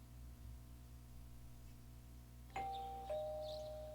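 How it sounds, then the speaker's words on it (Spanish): A two-tone ding-dong doorbell rings once in Persona 4 Golden, a clear electronic chime rising out of a low steady background hum partway through. "Oyes que suena el timbre."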